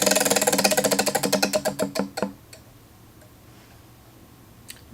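A prize wheel spins with rapid, loud ticks that steadily slow and spread apart until it stops after about two seconds, followed by near silence and one faint late click.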